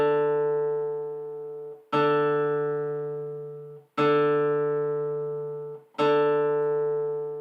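A single guitar string, the D string, is plucked four times at an even pace during tuning, each note ringing out clearly and slowly fading before the next pluck.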